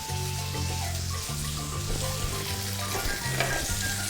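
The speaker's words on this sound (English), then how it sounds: "So I'm gonna put through my chips here." Chips sizzle and crackle steadily as they fry in a pan, a close, continuous hiss that holds at an even level throughout with no voices.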